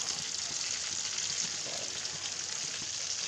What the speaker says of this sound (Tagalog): Lalo na kapag magpaprito ka ng isda